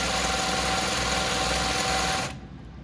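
A sewing machine stitches a shirt cuff with a steady, continuous mechanical whir that runs loud and close, then stops abruptly near the end.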